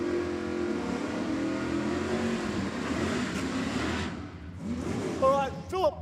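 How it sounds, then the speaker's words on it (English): Chev-powered Holden Torana drag race car with a 632-cubic-inch engine, heard as a steady loud engine drone at a drag strip with a commentator talking over it, then brief higher revs near the end. "632 cubes of Chev power on board this beautiful looking Holden Tirana."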